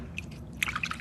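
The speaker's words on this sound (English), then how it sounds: "I know it's a lot of brush washing" A paintbrush is swished and rinsed in a cup of water while mixing tempera paint, giving a few soft drips and small splashes, brief and quiet.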